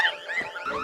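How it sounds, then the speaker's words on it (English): A store alarm blares in a television show scene, a continuous electronic wail with wavering, warbling tones, steady and fairly loud throughout with no voices. "Cheryl runs away screaming when the alarm starts blaring"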